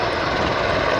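Mi-35 military helicopter flying at an air show, a loud continuous rotor and engine roar holding steady without break or voices.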